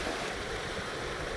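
A waterfall nearby gives a constant, dense broadband rush of falling water, loud and unbroken, with no voices.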